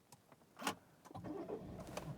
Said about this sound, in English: Yeah, look at the sunroof. Let's turn on and open that bad boy up.